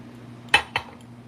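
Carnival glass chalices clinking together as they are handled, two sharp bright knocks in quick succession, close and clear over a faint steady hum.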